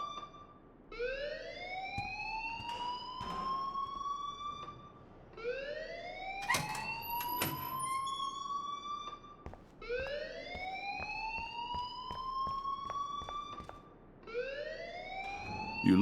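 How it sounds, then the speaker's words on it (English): A school fire alarm wails in Life is Strange, a rising electronic siren sweep that repeats about every four seconds at moderate volume, with faint clatter and movement beneath and no speech. "please turn off that alarm since that's your job."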